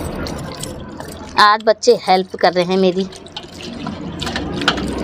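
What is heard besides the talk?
water poured into hand to wash fish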